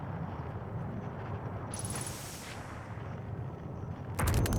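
Waterfall in the game Outer Wilds: Echoes of the Eye, a dense steady roaring rush of falling water, loud and unbroken, with a brief high tone partway through and a sharper burst at the end.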